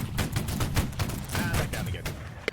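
Gunfire from an infantry musket volley in the war game Holdfast: Nations At War, heard as a ragged run of repeated sharp cracks and booms at steady loudness throughout, with a final sharp report at the end.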